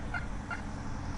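A turkey hen named Thomasina gives two quick gobbling calls, close and fairly loud against a low rumbling background.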